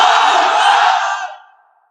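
A large crowd at an outdoor Islamic religious gathering shouts the takbir in unison, a loud, full roar of many voices that holds steady and then fades out over its last half second.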